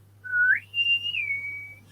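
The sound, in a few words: whistling imitating a ship's call to whistle people aboard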